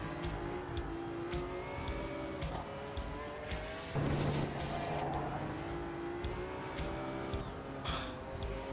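A delicate but powerful race car engine in a racing video game revs and shifts continuously, with pitch rising and dropping through gear changes, loud and close throughout.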